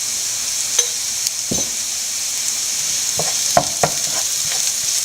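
Ginger, garlic and curry leaves fry in a pan with a constant soft sizzle, broken by several sharp spoon-and-pan clinks and stirring scrapes, no voices.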